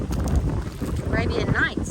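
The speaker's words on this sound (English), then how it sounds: "Oh, this wind." Gusting wind rushes steadily across a microphone in an outdoor Texas garden, a loud continuous buffeting roar with brief faint tonal sounds riding on top.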